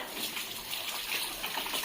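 Water splashing and gushing across a floor while a room is being cleaned, a steady broadband wash of spray that runs continuously for the whole stretch at moderate level with no talk over it.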